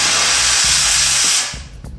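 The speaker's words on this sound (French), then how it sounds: "Je vous démontre, vapeur seule," A Euroflex SC50 steam cleaner releases steam only, a loud, steady rushing hiss that holds for over a second and then tapers off, with low background music underneath.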